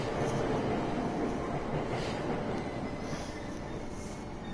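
Train in Persona 5 Royal: steady, loud rumble of a moving rail carriage with continuous wheel and rail noise throughout, no clear talk.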